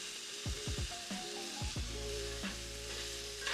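Onions and peppers frying in a pan, with a steady sizzle broken by several quick clatters and scrapes as the vegetables hit the hot surface and get tossed, close and alone with no talking.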